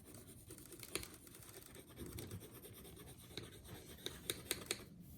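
Pencil drawing a tree on paper, soft scratchy strokes and rubbing with a few sharper taps near the end, quiet and close with no talking.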